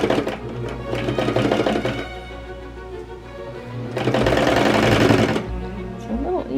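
A sewing machine stitches sweatshirt seams in rapid, steady bursts, running for about two seconds, slowing, then surging again close to the microphone, with a brief fabric rustle at the end.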